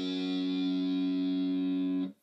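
The F sharp string of an electric guitar in drop B tuning rings out as one distorted, effects-laden note, sustaining evenly before cutting off sharply near the end.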